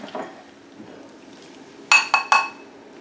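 A serving utensil clinks against a dish three times in quick succession near the end while tuno casserole is spooned out, preceded by quieter soft scraping.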